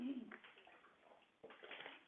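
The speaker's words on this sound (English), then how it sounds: "Getting water." Water splashes and trickles as it is poured into a glass for drinking during a spoken radio broadcast, a soft close pour with a brief louder splash near the end, no voices over it.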